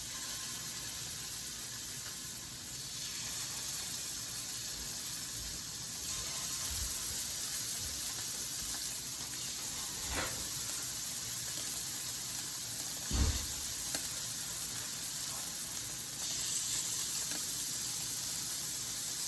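Scallops searing in a hot pan, a steady close sizzle and hiss running throughout with a few faint knocks, no talk.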